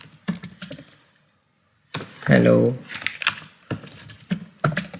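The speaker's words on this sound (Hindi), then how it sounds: "जैसे कि हम टाइप करते हैं" Quick clattering keystrokes on a computer keyboard, close and crisp in uneven bursts, with a short silent gap before a brief spoken word and steady typing resuming afterward.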